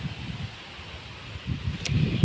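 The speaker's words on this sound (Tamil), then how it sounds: "பாருங்கள் காற்று எப்படி அடிக்குதுன்னு சொல்லிட்டு" Wind blows outdoors, a low rushing gust with faint rustling that swells toward the end, heard alone without any voices.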